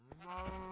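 A sheep in Minecraft's Agrarian Skies modpack lets out a short, wavering bleat, quiet and alone, with a low buzzing hum beneath it.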